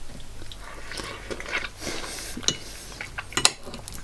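Someone biting into an avocado burger: soft crunchy bites and chewing close by, with a couple of sharper crisp crunches near the end and a faint clink of cutlery, no talk.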